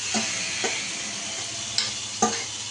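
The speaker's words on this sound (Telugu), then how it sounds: "కొంచెం ఇలా మంచిగా ఉల్లిగడ్డలు వేగాక మనం కలిపి పెట్టుకున్న చికెను ఇలా వేసేసేయాలా" Marinated chicken sizzles steadily in a pan with fried onions, a constant close frying hiss broken by a few sharp clinks of a spoon against the pan.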